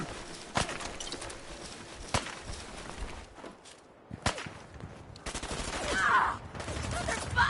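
Bursts of automatic gunfire from Fallout 4 combat, sharp shots in irregular clusters across the clip with short pauses between, and a louder stretch of sustained firing near the end.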